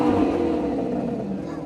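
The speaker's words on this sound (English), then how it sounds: "he chooses a much more luxurious car, and he clearly enjoys every second behind the wheel" A luxury car's engine hums and pulls steadily as it accelerates, a smooth, continuous, fairly loud drone throughout.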